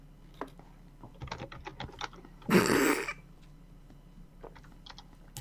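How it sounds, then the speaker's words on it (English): Quick, irregular clatter of computer keyboard typing in the background, quiet and scattered across the stretch, broken once by a brief louder throaty cough-like burst from someone nearby. "all I hear is a bunch of clacking in the background"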